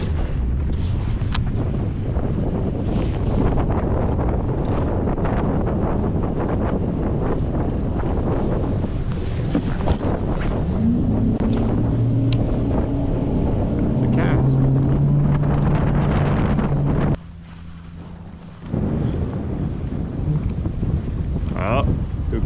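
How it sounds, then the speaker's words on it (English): Wind buffets a bass fishing boat out on the water near a point with current, a steady rushing roar against the microphone that drops out briefly near the end, with voices underneath. "All this wind and current coming around this point."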